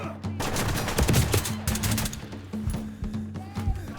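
Gunfire in a kitchen and garden gunfight in Ready or Not: sharp repeated bursts of shots, close and loud, with brief pauses between volleys.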